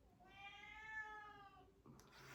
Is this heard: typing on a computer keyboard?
no